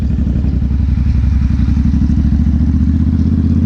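A CFMoto 450SS motorcycle idles and takes a little throttle in a parking lot, giving a steady, close, loud engine drone with a fast even pulse that barely rises across the few seconds.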